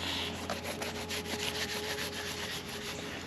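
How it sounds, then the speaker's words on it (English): A tortoise's shell being scratched: continuous dry rasping and rubbing strokes, close and steady, with a rhythmic scraping texture throughout and no talk. "they do like their butts rubbed and their shell scratched"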